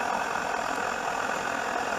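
A petrol camping stove burns in a woodland camp with a steady, continuous roaring hiss at close range, unbroken for the whole moment with no voices.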